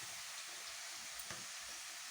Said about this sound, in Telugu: రెండు కలిపి వేయించుకోవాలి.